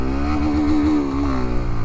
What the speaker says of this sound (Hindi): आवाज़ सुन रहे होगे, आवाज़ थोड़ा आपको अलग लग रहा होगा, वही एक्सट्रीम 125 का आवाज़ जैसा आवाज़